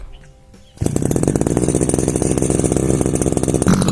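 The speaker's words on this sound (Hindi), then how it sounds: "थोड़ी देर मैंने इसको भी गर्म करने के लिए रखा है, थोड़ा इसका इंजन गर्म हो जाएगा" Small petrol engine on grass-cutting equipment for an apple orchard, idling to warm up after a cold start; it kicks in abruptly after a quiet moment and runs loud, close and steady with a rough, buzzy throb.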